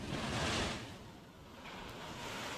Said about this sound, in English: we're on a spillway. It's just pouring pretty much a giant pool